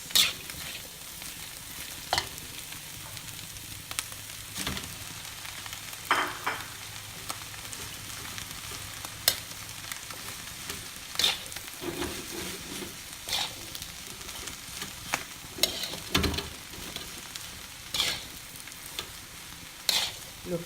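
Balinese nasi goreng stir-fried over a high flame with chili and rice, a steady close sizzle and frying hiss broken by repeated scrapes and clacks of the spatula against the pan, with no talking.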